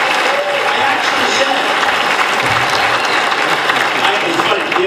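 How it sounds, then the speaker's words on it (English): A crowd at a Donald Trump rally in Hilton Head, South Carolina applauds steadily and loudly for several seconds, a dense wash of clapping that continues without pause. "like I say that, you applaud, I start talking before you finish your applause"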